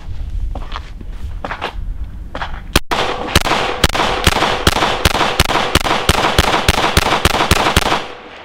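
Handgun fitted with a red dot optic firing a magazine in steady succession: roughly fourteen sharp, loud reports at a brisk, even rhythm, preceded by quieter handling and footstep-like clicks, then silence.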